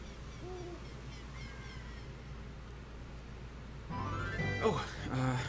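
An owl hoots a few times in a video game, soft and distant over a low ambient game background, and a louder burst of game sound follows near the end.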